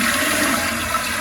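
A toilet flushes when its flush lever is pushed down, a loud close rush of water running steadily with no talk.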